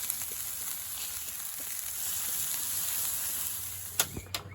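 Sausages frying in a Ridgemonkey pan, a steady soft sizzle and hiss at close range, with a couple of sharp clatters near the end.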